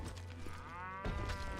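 A cow in the Western video game Call of Juarez lets out a short, low moo, rising and then cut off by a brief mechanical thud.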